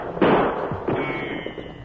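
A gunshot sound effect in an old radio western drama: one sharp, close bang with a short decay, followed by a softer second thump and scattered low knocks.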